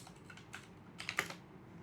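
Typing a short label on a computer keyboard, a few close, quiet key clicks in a small cluster with a brief flurry near the middle and no talk.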